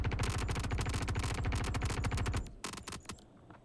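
A P4 AR assault rifle in Star Citizen fires in a long, rapid automatic burst into a Cutlass ship. The shots come loud and close, then thin out into a few scattered rounds at the end.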